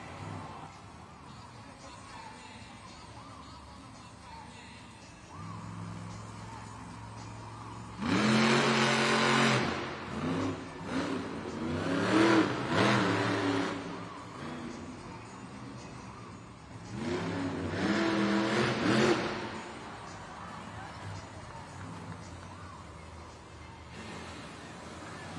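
The Monster Mutt Dalmatian monster truck revving its engine in a Monster Jam arena, two loud, rising roaring surges separated by a steady idle, over a constant crowd-filled background.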